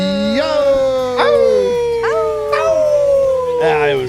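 A man imitates a dog howl in long, loud, close howls that slide downward, several in a row, with other voices briefly chiming in.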